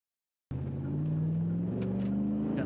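Chevrolet Silverado pickup truck driving in town, its engine hum starting abruptly and holding a steady, slightly rising drone for a couple of seconds, close and moderately loud.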